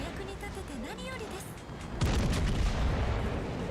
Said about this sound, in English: They're shooting HE!